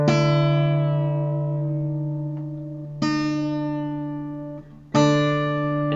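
Guitar strings tuned to a matching D note ring out sustained and close, three separate plucks each decaying slowly, with no talking.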